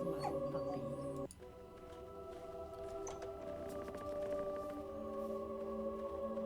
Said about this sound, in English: Who's a good dog? You're a good dog.